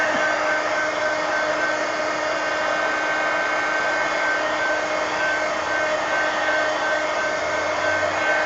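A hair dryer blows steadily and loudly at close range, drying paint on a mixed media painting. Its constant whirring hum and airflow continue without a break and without talk.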